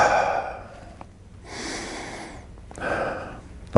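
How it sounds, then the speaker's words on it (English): An athlete takes slow, deep belly breaths during a speed training workout, each a long, airy inhale or exhale heard up close. Three or so full breaths sound in a steady rhythm, with short quiet pauses between them. "I want you to do 5 belly breaths. No, not chest, belly."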